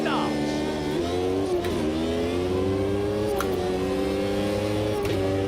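Race cars in Automobilista 2 pull away from the grid at the start of a Formula 1 round at Catalunya, their engines rising in layered, rising whines with brief gear-shift dips. A commentator speaks over the engine noise.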